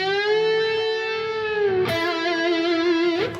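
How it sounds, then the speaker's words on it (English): A single guitar note is picked and bent upward from the 11th to the 14th fret, its pitch gliding smoothly up and sustaining, with a second attack and slight rise near the end, close and clear with no talking. "I'm bending 11 to 14."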